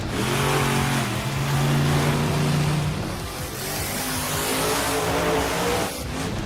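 A Monster Jam truck's big engine roars and revs hard near a Jersey barrier, a loud sustained drone with a rising then easing pitch that swells again toward the end, up close with no talk.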